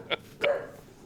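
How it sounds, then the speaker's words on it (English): Two short dog barks from a little way off, the first a sharp yip and the second fuller and longer, with quiet room tone between them. "Do you hear the dog?"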